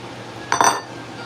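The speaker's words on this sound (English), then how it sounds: "Still going to keep stirring incessantly and just let that chocolate melt" A spoon clinks briefly against a pot while stirring sugar and Mexican chocolate, a short cluster of metallic taps over steady background hiss, with no talking.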